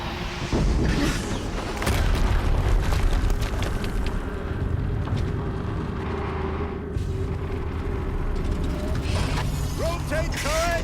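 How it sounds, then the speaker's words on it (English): Explosions in the video game Horizon Zero Dawn boom out amid dense battle noise and mechanical clatter, loud and sustained for several seconds, with a brief chirping sound near the end. "Another explosion."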